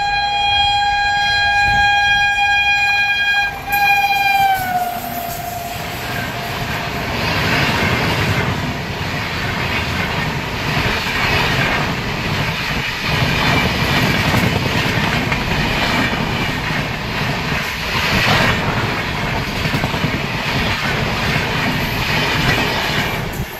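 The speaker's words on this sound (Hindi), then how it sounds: "तो ट्रेन आ रही है, पहले उसको देख ले" An Indian Railways train horn sounds loudly for several seconds, then the train rolls past close by with a sustained rumble and rhythmic clatter of wheels on the track, steady and loud to the end.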